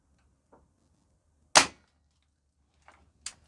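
A Hatsan 130 Vortex .30 caliber pellet rifle fires one sharp, loud crack outdoors, preceded by a faint click and followed by quieter distant impact taps.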